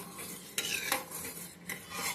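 A spoon or strainer stirs ajwain tea in a pot. It makes a few quick scraping, clinking swirls over a soft background hiss, and no one talks.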